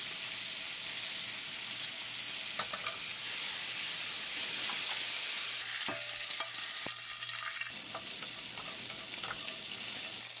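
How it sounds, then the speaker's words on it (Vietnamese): A second batch of meat pan-searing in a frying pan hisses and crackles steadily up close, with a few brief clatters and stirring noises breaking into the continuous sizzle. "Áp chảo tiếp cái phần thịt còn lại nữa là xong nè"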